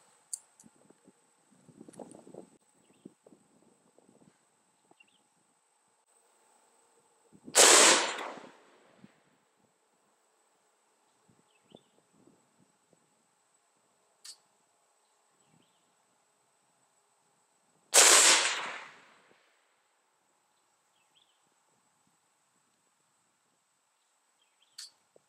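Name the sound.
Head Down PV-13 AR-15 rifle shots, 62 grain ammo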